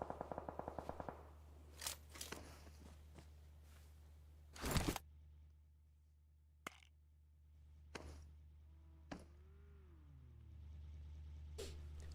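Gunfire exchange in PUBG Mobile during an esports match, a rapid burst of automatic fire followed by spaced single shots and distant cracks over a low engine hum.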